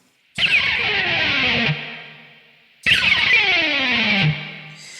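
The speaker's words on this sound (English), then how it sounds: "Now to do the pick slide, I'm going to hold the pick just like this" Electric guitar pick slide scraped hard down the D string from near the first humbucker, done twice: two long grinding, descending distorted scrapes with echo, each sustaining over a second before cutting off, loud and close with no talking.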